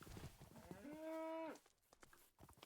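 A cow in a Minecraft village gives a single drawn-out moo, clear and mid-distance, over faint background clatter with no talk.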